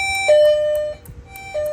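A gradual horn tone from a Directone demo board, a steady electronic tone with harmonics that steps down lower partway through, breaks off briefly, then sounds again, loud and close.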